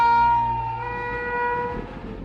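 A train horn on the Delhi–Amritsar railway line at Kurukshetra sounds one long, loud, sustained tonal blast that fades slightly toward the end, with rumbling rail noise beneath.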